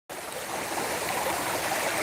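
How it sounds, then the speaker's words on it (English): Creek water rushing steadily beneath a rock dam-like ledge, a close, continuous broadband gurgle and splash at even loudness with no voices. "And water's flowing from here or underneath it."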